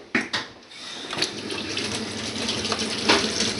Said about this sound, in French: là vous pouvez faire couler l'eau chaude